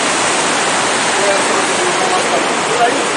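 The Saraswati river rushes near Bhim Pul in Mana village, a loud, steady broadband roar of fast water close by that runs without pause.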